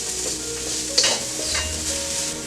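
Garden-picked serrano peppers toast in hot oil in a pan, a steady close sizzle with a bright metallic clink and some stirring scrapes, no talk.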